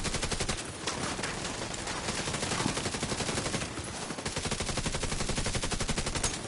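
Sustained rapid automatic gunfire in a PvE shooter video game, a dense unbroken rattle of shots running the whole few seconds at steady moderate loudness with no talk over it.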